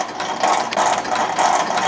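A Rhodes metal shaper runs under power feed, making a loud, steady mechanical clatter that pulses in a repeating stroke rhythm, with no voices.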